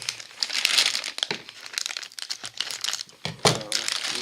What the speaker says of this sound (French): Le plastique va s'ouvrir comme ça.